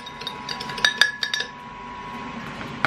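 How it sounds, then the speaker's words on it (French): A utensil scrapes stuck sugar around a mixing bowl, giving a brief cluster of light metallic clinks and scrapes near the middle, then quieter handling. "On va gratter le sucre."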